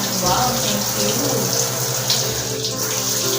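Water pours steadily from a shower, a continuous loud rush and splash that runs throughout.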